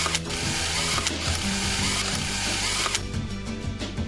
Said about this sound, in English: Tighten them to the specified torque as shown.